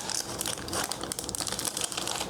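Plastic shrink wrap crinkles continuously as it is peeled off a DC deck-building card game box, Arkham Asylum edition, a close, busy crackling with no talking.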